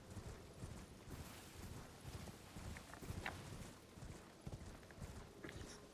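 A horse carries its rider through Caelid in Elden Ring, with a steady clip-clop of hooves at close range under quiet ambient game sound and no talk.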